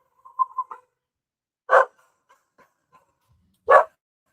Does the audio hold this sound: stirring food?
no